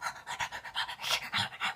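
A person imitates heavy, rhythmic dog-like panting, mimicking a man's loud breathing while he eats, about ten quick huffing breaths in under two seconds, close and fairly quiet.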